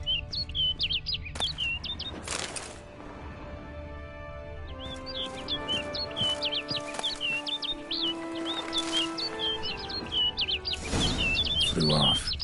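A bird chirps in the video game The Witcher 3: Blood and Wine, with bright, rapid trills repeating throughout over a low ambient musical bed.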